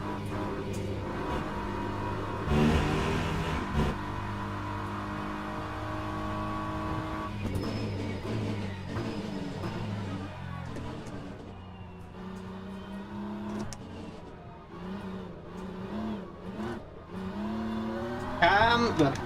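A BMW race car in a racing video game runs continuously with a droning engine that rises and falls through gear changes, a brief tire squeal or skid partway, all under steady background music.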